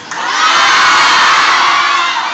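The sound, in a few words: students shouting together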